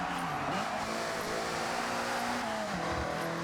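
A Toyota AE86 driven in Forza Horizon 6, its engine droning steadily close by with pitch sweeping up and down through shifts and revs, a continuous loud whine alone without talk.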